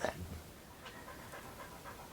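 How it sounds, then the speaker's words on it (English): Bridget the dog pants heavily nearby, a steady run of quick, soft breaths after a brief louder sound at the start, with no voices. "If you hear any heavy breathing, Bridget has decided to come in and join me."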